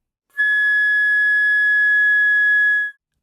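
A flute sustains a single G sharp in the third octave, one steady, pure, clear tone held for about two and a half seconds with a clean start and stop, close and fairly loud with no talking.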